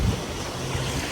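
Warm sea surf washing onto a Barbados beach, a steady broad wash of breaking water with some wind rumble, close and fairly loud for just over a second, no voices.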